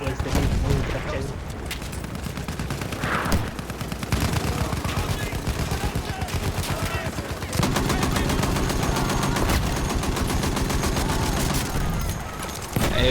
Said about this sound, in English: There's suppressing fire over there.